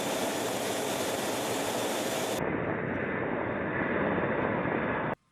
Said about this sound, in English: The B-52 Stratofortress